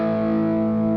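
Open A string on a distorted electric guitar tuned to standard 440, a single sustained note ringing steadily with thick, saturated harmonics for the full second, loud and alone.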